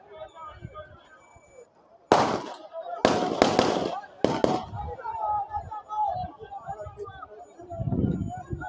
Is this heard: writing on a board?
no